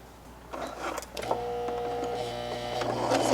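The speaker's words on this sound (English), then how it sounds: "first we are going to sew 1/4 of an inch on the right side" Sewing machine running steadily while stitching a quarter-inch seam for a French seam, a sustained mechanical hum with harmonic whine that starts after a brief handling noise and continues close and alone to the end.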